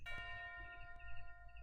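Bell sample in FL Studio, retuned to E flat, ringing as a sustained church-like tone with a clear strike near the start and a second strike about a second later, decaying evenly and alone.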